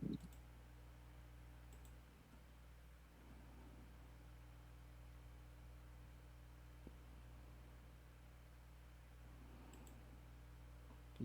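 A few faint, isolated mouse clicks to make a dice roll in a Vampire the Masquerade tabletop session, spaced seconds apart over a quiet, steady room hum.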